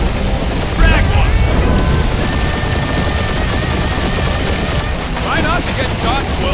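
Dense, loud bursts of gunfire and booming impacts in the Guardians of the Galaxy video game, a continuous barrage with game voices and whining effects layered over it.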